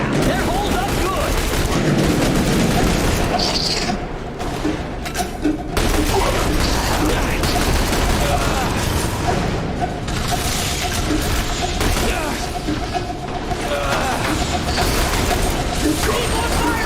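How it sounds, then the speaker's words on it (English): Sustained gunfire from a firefight in The Bureau: XCOM Declassified, with dense rapid bursts and booms that barely let up, loud and close, while squad voices shout over the shooting. "Keep on firing!"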